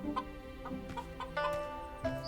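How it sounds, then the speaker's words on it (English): Free-range chickens in a murder-mystery video game cluck in short, repeated bursts over a steady musical background, moderately loud and close. "free-range chickens here. Sure, 2 chickens."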